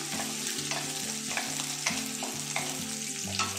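Sliced garlic for chilli chicken fries in hot oil on a high gas flame, a steady crackling sizzle with short stirring scrapes recurring at a regular rhythm, close and with no voices.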